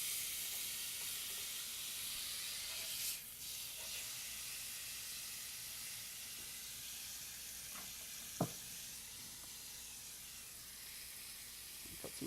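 Salmon fillet sizzling on a hot grill in a steady, close hiss, with a brief scrape and clatter as it is flipped, then the frying hiss carrying on.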